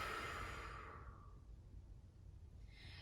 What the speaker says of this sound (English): And open mouth, exhale.